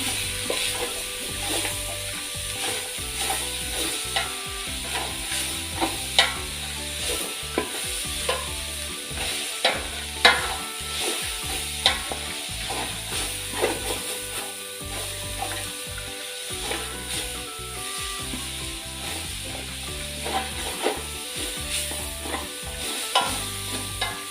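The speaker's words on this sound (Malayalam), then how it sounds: "ചീരയിട്ട് അരപ്പുമായിട്ടൊന്ന് മിക്സ് ചെയ്ത് കൊടുക്കാം" Chopped spinach is stirred into ground coconut paste in a pan for Kerala cheera thoran, with repeated scraping spatula strokes over a soft, continuous sizzle, close and steady throughout.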